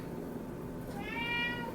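Two cats meowing nearby, wanting food in a kitchen during baking: a brief mewing call rising at the end, close and moderately loud over a low background hum.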